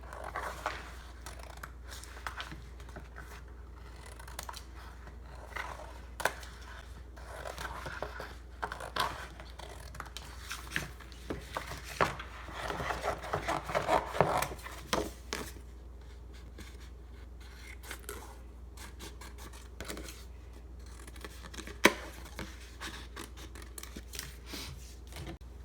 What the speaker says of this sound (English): I'm just going to start randomly cutting my shapes into little mosaic pieces